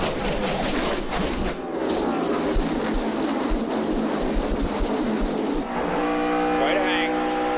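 NASCAR race cars roar past at the 2011 Kobalt Tools 400, a loud continuous engine drone with passing surges, fading to a thinner whine as the pack moves away; commentators talk over it.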